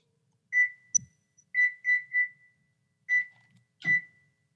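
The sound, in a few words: stove timer being set, beeping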